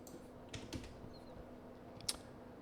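A few quiet keystrokes tapped on a computer keyboard, faint and sparse, with soft clicks spaced irregularly over a couple of seconds.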